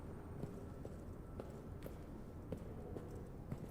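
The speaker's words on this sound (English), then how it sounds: "it's probably my loud ass footsteps" Footsteps in Amnesia: The Bunker, a dim repeating series of soft thuds and taps at an uneven walking pace, quiet and muffled beneath a low rumbling background drone.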